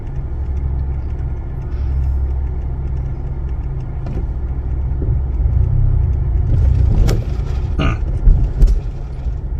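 A Honda Civic Type R rolls slowly through a drive-through over speed bumps, its low engine rumble steady and close, with a couple of short thumps and rattles as the wheels cross the bumps near the end.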